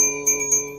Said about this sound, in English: You get a little bell, and you just kind of sing along.